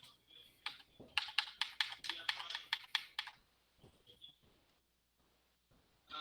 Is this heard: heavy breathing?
no